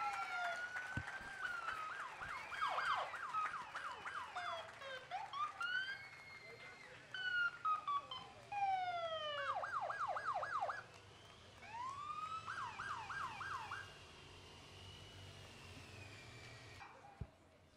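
Police car sirens from the Temecula Police Department at a 4th of July parade in Old Town Temecula, wailing and yelping in rising and falling sweeps, alternating patterns, fairly close, over a low crowd murmur.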